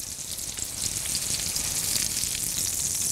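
Meatballs for Mexican albóndigas sizzle and fry steadily in a pan, a dense, bright, continuous crackle close up and fairly loud, with no talking over it.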